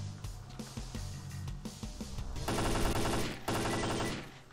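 AK assault rifle fire in S.T.A.L.K.E.R. Clear Sky, first several scattered single shots, then loud sustained automatic bursts with a short break, close and punchy over low game ambience.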